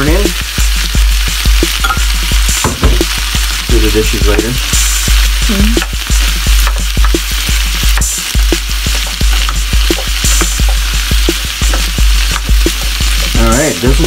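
Corn sizzles loudly as it is stirred into a frying pork and vegetable stew, the crackle steady with repeated scraping strokes, and a brief spoken remark comes through.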